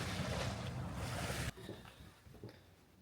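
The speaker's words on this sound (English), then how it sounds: "Here are some activities going on the lake and very calming waves." Calm waves lap on Prior Lake with boats out on the water, as a steady rushing wash that cuts off abruptly and leaves a quieter, faint ripple of water and wind.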